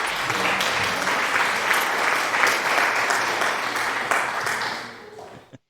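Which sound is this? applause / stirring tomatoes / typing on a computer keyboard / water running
applause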